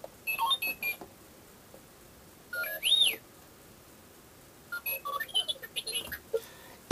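An R2-D2 novelty alarm clock, the kind that projects the time onto the ceiling, lets out bursts of droid-like beeps and warbling whistles in three separate clusters with quiet gaps between them.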